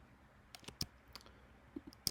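Several sharp, isolated mouse clicks sound in a quiet room while a game launcher is navigated, scattered irregularly with short gaps between them and no talking.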